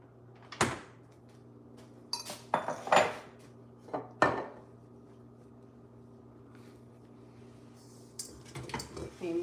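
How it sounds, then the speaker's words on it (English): A kitchen mixer is shifted across the counter with a handful of knocks, clinks and clattering bumps in a quiet kitchen, followed by a brief stretch of near silence. "Let me move my mixer over here."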